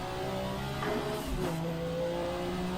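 Race car in a sim racing game on the Mulsanne Straight, its engine note dropping through downshifts under braking and then rising as it accelerates, a steady, close drone with tonal harmonics and no talk.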